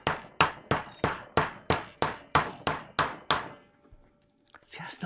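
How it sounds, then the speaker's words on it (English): A hammer striking BSA Lightning/Super Star motorcycle engine parts during a rebuild, about eleven sharp, evenly spaced blows close by, then a short pause before faint movement and voice-like sounds. "hitting things with hammers."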